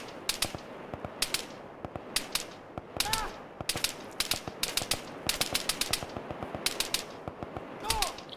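Rapid gunfire in the military video game ARMA 3, sharp cracking shots in irregular bursts and single reports throughout, some near and loud, others distant.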